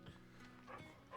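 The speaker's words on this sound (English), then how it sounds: "Doggy." A dog in Final Fantasy XVI gives a few short, soft barks, faint and close, over a low background hum.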